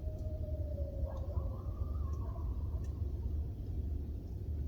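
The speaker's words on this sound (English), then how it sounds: "You can hear the coyotes." Distant coyotes howl on a cold Canadian winter night, a long faint sliding wail joined by softer wavering cries over a constant low rumbling background.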